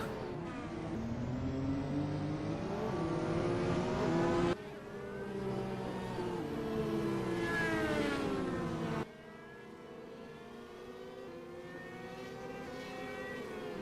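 Race cars at Laguna Seca in the ASRA National Championship scream down a long straightaway, engine notes rising through the gears in repeated sweeps. The roar is loud and sustained, with no talk over it.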